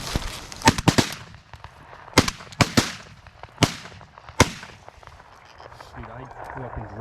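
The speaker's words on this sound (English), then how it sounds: "I shot it a second time for fun." Shotgun blasts fired at a goose during a Thanksgiving morning hunt, a series of sharp, loud, close reports in uneven bursts, some doubled in quick succession, with faint voices and rustling between shots.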